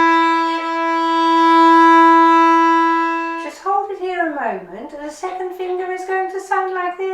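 A single long bowed violin note played with the second finger on the D string, held steady for about three seconds, close and clear, before a person starts talking.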